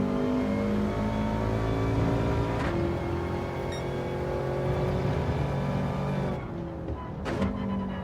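A damaged car engine in a racing video game drones and whirs steadily with layered tonal harmonics, loud and close, with a couple of brief sharp transients and a short dip near the end.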